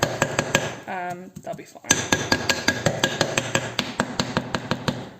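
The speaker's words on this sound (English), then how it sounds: "I'm just tapping like where the details are, so the teeth, the nose, the forehead, and around the eye sockets" Rapid metallic taps ring out on a cast alloy Nordic Ware skull cakelet pan, a steady run of sharp, resonant knocks over its detailed teeth, nose, forehead and eye sockets, with a brief spoken remark before the tapping begins.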